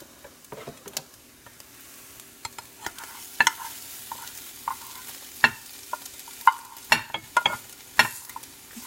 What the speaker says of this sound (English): Get your spatula and your pan and start scooping it off.